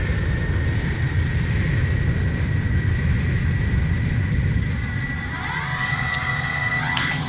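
A simulated airplane engine at max power in a Roblox flight sim game: a steady, loud, dense roar with a constant whine held throughout and a brief rising tone near the end, no speech.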